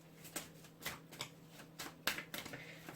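Tarot or oracle cards are shuffled during a card reading: a soft, steady run of riffling flutters and light slaps, close but quiet, repeating in uneven bursts with no talking.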